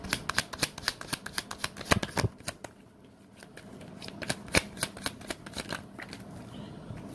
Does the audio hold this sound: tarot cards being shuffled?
yes